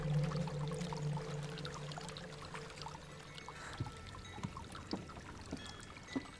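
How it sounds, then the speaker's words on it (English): Waterfall in the video game Hellblade: Senua's Sacrifice, a steady soft rush of pouring water with a low tonal drone early on and scattered faint drips and splashes, no talk. "There's a waterfall."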